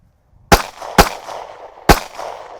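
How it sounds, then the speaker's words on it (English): Three sharp handgun shots in a defensive training drill, two close together then a third after a short gap, each loud and crisp with a brief ringing tail, no talk. "You will take a step to the right, 2 shots to the body, 1 to the head."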